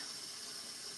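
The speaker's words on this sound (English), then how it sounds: "So you gotta wash your hands afterwards, otherwise your hair will be all sticky" Tap water runs into a bathroom sink for hand washing, a soft, even stream heard faintly at a slight distance, with a small splash near the end.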